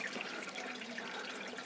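Water trickling and splashing steadily through a drain tube in a home hydroponic tomato garden, a continuous close bubbling flow returning toward the water tank, heard on its own.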